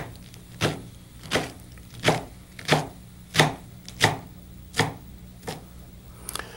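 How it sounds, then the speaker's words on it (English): Eight evenly spaced knife strokes slice leaves into thin strips on a board, each a sharp close chop against steady quiet. "slice these up into thin strips with our lovely sharp knife here"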